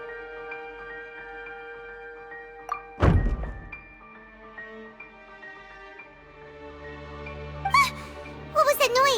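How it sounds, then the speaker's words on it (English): A decoration gets knocked over in Genshin Impact: one sharp, heavy thunk lands in the middle of game music, followed by a short clatter near the end. "I seem to have accidentally knocked over a decoration"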